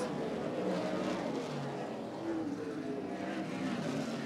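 Race cars roar around the dirt oval at New Paris Speedway, a steady dense engine drone from a pack running side by side, heard from a distance with faint commentary underneath.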